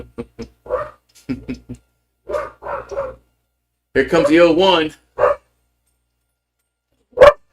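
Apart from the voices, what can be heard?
two dogs barking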